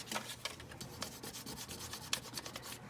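Folded paper is rubbed over an inked print during a printmaking demonstration. Faint, close scratchy rubbing comes in quick back-and-forth strokes with soft scuffs, and no talk is heard.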